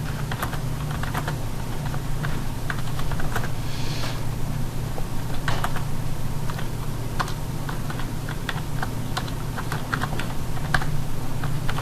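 Someone types steadily on a computer keyboard while entering text in CAD drawing software, a dense run of close, crisp key clicks with irregular rhythm, over a low steady hum, with no talking.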